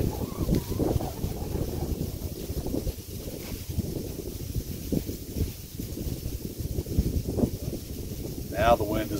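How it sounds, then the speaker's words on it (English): Gusty wind buffets and roars across the microphone outdoors near a stream, constant and loud with shifting bursts, while a person talks over it. "Now the wind is blowing back downstream. It's just swirling all around the day."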